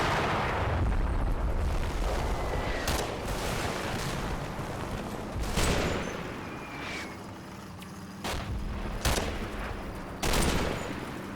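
Infantry gunfire in the Combat Mission video game, an Operation Epsom battle at Mondrainville against SS troops: repeated sharp volleys and bursts of rifle and machine-gun fire, some close and loud, others farther off, over a rumbling battlefield background.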